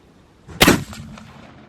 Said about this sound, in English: shooting a 750 grain AMAX, hand loaded with US 869 powder. And you're shooting a milk jug at about 80 yards